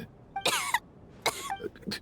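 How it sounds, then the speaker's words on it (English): Two harsh, raspy coughing fits from a Genshin Impact video game character, each a quick double cough, followed by a faint throat sound. "How long have you had that cough, Tonya?"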